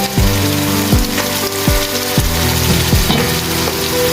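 Onion paste and ginger garlic paste fry loudly in hot oil for a kofta curry, a dense crackling sizzle with repeated scraping strokes of a spoon stirring, close and continuous with no talk.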